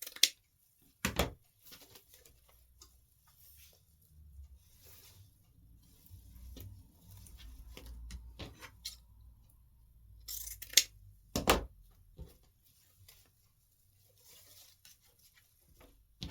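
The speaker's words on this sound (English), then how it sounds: "I'm cutting them all." Scissors snip through end-of-roll ribbon scraps in a few sharp, separate cuts spread over a quiet stretch, with soft handling rustle filling the gaps between them.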